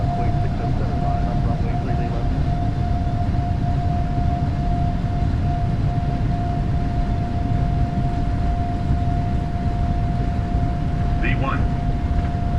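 Boeing 777-300ER jet engines at takeoff power in Microsoft Flight Simulator give a steady, loud broadband roar with a sustained tonal whine running throughout, loud and continuous.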